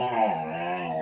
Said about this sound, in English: My dogs decided to start playing.